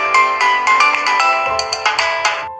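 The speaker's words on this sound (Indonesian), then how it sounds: "Nana mendengar ada suara game dari HP Ouyang." Bright, bleepy mobile game jingle playing from a phone: a busy run of stacked synthetic tones with repeated short accents, loud and clear, no talking.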